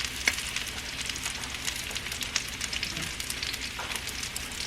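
Garlic frying in a pan while cooking Mexican-style crispy fried shrimp, a steady close sizzle full of fine crackles and small pops, with no voices.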